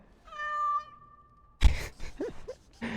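A cat in the video game Dragon Age: Origins Awakening gives one clear, drawn-out meow, followed by a thump and short chirpy game sounds nearby.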